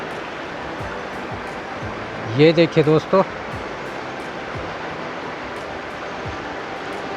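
A river rushes steadily over washed stones along its bank, a continuous broad hiss of flowing water that fills the background while someone briefly speaks over it.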